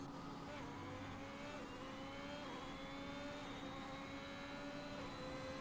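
A racing car engine in the F1 2021 video game during an F3 race at the French Grand Prix, with a steady high whine and rising pitch held continuously over a constant background rumble.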